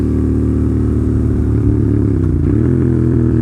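Motorcycle engine droning steadily, then a downshift without rev matching makes the pitch drop and shift abruptly as the bike lurches, loud and close with no talking.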